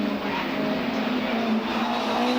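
MGF Cup race cars at Knockhill circuit in 1999, a loud steady engine roar held throughout with constant high-revving drone, close and unbroken, with no voices.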